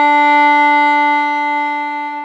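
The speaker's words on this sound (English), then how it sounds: "let's play a long bow on D first" A violin plays a long bowed note on the open D string. The tone is steady, clear and sustained at close range, with no talking, and it fades slightly toward the end.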